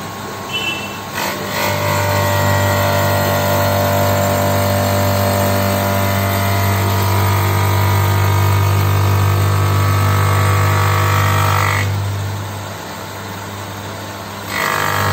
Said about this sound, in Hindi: This is the shape glass polishing machine.